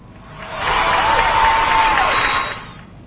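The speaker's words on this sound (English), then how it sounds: "Listen to that crowd, Lucy." Short crowd cheering sound effect, a swell of cheers and clapping that fades in, holds loudly for under two seconds, then fades out.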